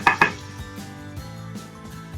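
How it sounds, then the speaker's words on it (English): A spoon stirring food in a cooking pot while lentils and pasta cook, giving a couple of sharp metal clinks against the pot, then softer scraping taps at a slow, irregular pace. "Giving it a stir so that it doesn't burn or stick to the bottom."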